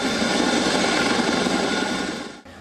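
A Chinook helicopter's engines drone in a loud, steady whine with a low rotor rumble underneath, continuous and close before easing off at the end.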